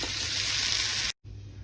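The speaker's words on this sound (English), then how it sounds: "fry the potatoes" Potatoes fry in a hot pan with a loud, dense, close-up sizzle that holds steady, cuts out abruptly for a moment, then resumes.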